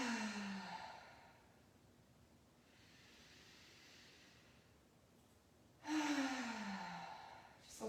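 Slow, breathy exhales out through the mouth during a chair yoga session, two soft sighing breaths separated by a quiet pause, close and gentle.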